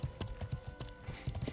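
Horse hooves clop in the Life is Feudal video game, a steady rhythmic series of close, dull hoofbeats, roughly four or five strikes per second, with faint voices in the background.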